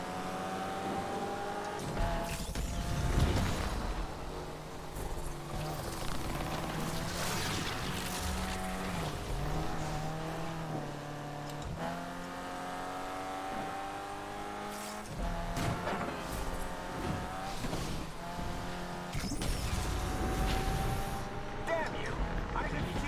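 A car drifting hard in Need for Speed Unbound, played on a Logitech G29 wheel: a sustained engine roar wavers up and down in pitch, mixed with tire squeal and skidding, loud and continuous throughout.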